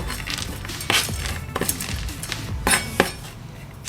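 Utensil clinking and scraping against a dish while mixing two ingredients together for a light doowap recipe, with several sharp clinks standing out over a steady close scraping bed.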